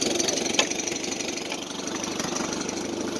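A Farmall C tractor pulling an Oliver plow, its engine chugging steadily just above idle with an even, rapid knocking rhythm, close and continuous, with a brief clack early on.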